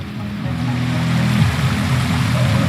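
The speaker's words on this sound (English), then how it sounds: "There's something behind the waterfall." A waterfall in the Wuthering Waves video game pours in a steady, loud, broad rush of falling water, constant throughout with no voices.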